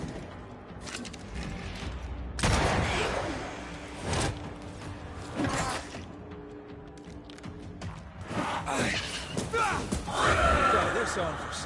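Gunfire and crashing combat noise from the Banishers video game, with loud bursts around the middle and end layered with game effects and talk over the action.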